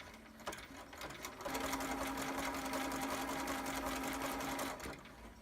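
Sewing machine stitching over crochet thread to make gathers, a close, steady motor whir lasting about three seconds after a short start, with no talk.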